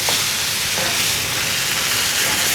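Tomato sauce for a meat lovers pizza cooks down on low heat with a steady, dense sizzling bubble, continuous and close, with no talk over it.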